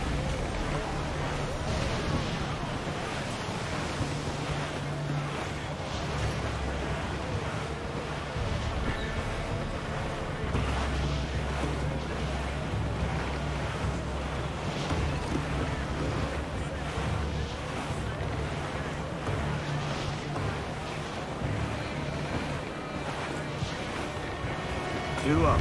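A sailing ship from Assassin's Creed IV Black Flag pushes through wind and waves, a steady broad rush of water and gusting air that continues unbroken from start to finish, with a low rumbling layer beneath and occasional creaks.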